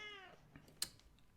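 A house cat lets out a brief, quiet meow that fades quickly, followed by a soft click and faint background rustling.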